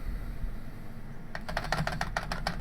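Keys on a computer keyboard clack in a quick, uneven burst of close typing after a moment of quiet room noise.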